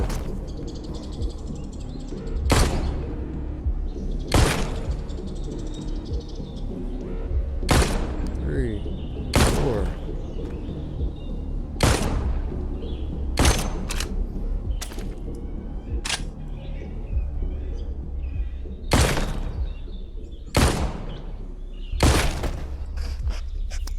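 Gunfire in The Walking Dead Onslaught, a PSVR zombie game, rings out as about ten sharp, loud single shots at irregular intervals, each a crisp crack that cuts off fast, over a faint steady background.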